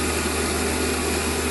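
A lathe turns down small Webster model-engine heads to a 5 mm diameter, giving a steady, even mechanical whine and hum with fine cutting texture, unbroken and close.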